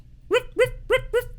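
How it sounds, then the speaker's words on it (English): Four evenly spaced dog barks, sampled into a song, sharp and close, repeating in a quick mechanical rhythm over a low background. "Just a sampled dog bark."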